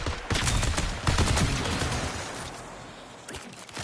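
Gunfire in the video game Marathon erupts as dense, overlapping bursts of rapid shots, loud and close for the first two seconds, then thinning out with a few scattered later shots.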